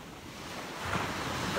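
At the beach, sea waves wash in under gusting wind, a soft continuous roar that swells slightly louder partway through, with no voices.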